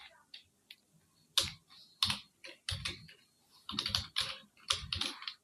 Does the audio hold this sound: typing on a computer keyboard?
yes